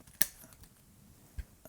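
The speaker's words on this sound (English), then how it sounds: "So a good pair of bonsai scissors is the other thing that you're going to need just starting out" Two crisp snips from a pair of bonsai scissors cutting branches on a Fukien tea tree: one sharp, close cut near the start and a softer second snip a moment later, with quiet pauses around them.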